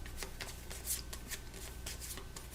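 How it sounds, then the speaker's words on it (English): A deck of game cards for the Aeon Trespass: Odyssey board game being shuffled, with quick riffling bursts repeating through the short span, close and fairly quiet with no talk. "so we shuffle a BP 3 card in here now."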